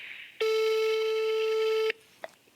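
A telephone tone sounds when calling a flip phone: one steady, loud electronic beep lasting about a second and a half, followed by quiet and a faint click.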